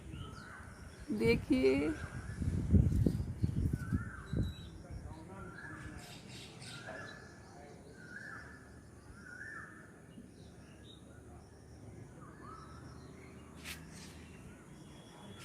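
Crows caw among other calling birds outdoors in the morning after a cyclone, mid-distance and overlapping, while someone speaks at the start.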